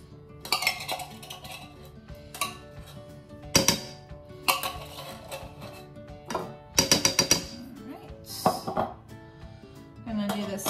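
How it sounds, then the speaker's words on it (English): A metal spoon scraping broccoli chicken casserole ingredients out of a container into a bowl, making repeated clinking and scraping bursts in an irregular rhythm, close by, with someone talking in between. "I'm gonna take a spoon so I get all the good stuff out of here into the bowl."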